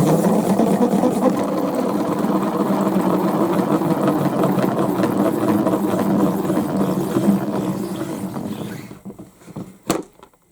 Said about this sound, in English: So let's spin this.